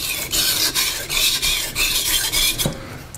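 A steel knife blade is sharpened freehand on a stone, producing repeated rasping strokes in a steady back-and-forth rhythm, close and fairly loud with no talking.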